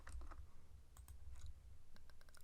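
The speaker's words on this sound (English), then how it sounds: "I'm going to type that in here." Quick, irregular clicking of computer keyboard keys in a short burst of typing, close and clear over a low background hum, with no talking.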